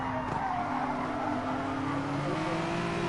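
GR3 race cars in Gran Turismo, including a Ferrari, roar along Fuji's short circuit, loud engines droning with rising pitch and a hint of tire squeal, continuous and close.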